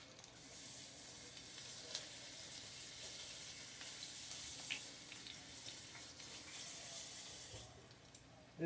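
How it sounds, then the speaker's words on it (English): Leftover pork roast sizzles steadily in a frying pan, a continuous bright crackle with occasional stirring clatter and faint tap-water running in the background, no talking. "This is how you fry pork roast that has already been used."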